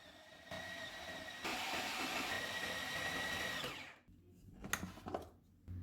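A food chopper whirs loudly for a couple of seconds, grinding chicken kebab mince with red chilli and cumin, then stops, leaving a few quiet clatters and bumps.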